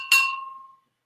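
One bright clink from an unopened glass 40-ounce Mickey's bottle, a crisp ringing tap whose clear tone fades out over under a second.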